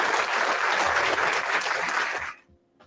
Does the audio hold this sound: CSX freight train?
no